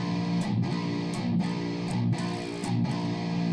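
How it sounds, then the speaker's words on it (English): A distorted electric guitar plays slow palm-muted notes on the open E string, evenly spaced heavy chugs with short gaps between each muted attack, loud and close. "I want to say 3 palm mute to open E string notes"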